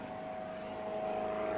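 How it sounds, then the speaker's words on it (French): An airplane passes overhead near a French country house, a steady broad engine roar that holds level and swells slightly louder toward the end, with no voices present. "un avion qui passe"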